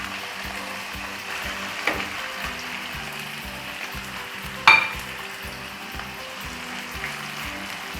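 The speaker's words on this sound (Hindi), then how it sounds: "लहसुन अदरक सुनहरी हो चुका है, तो अब इसमें टमाटर शामिल कर देती हूँ।" Tomatoes go into a garlic-ginger paste already sizzling in hot oil for chicken karahi, giving a steady close frying hiss with a couple of sharper spits and clatters as the pan is stirred.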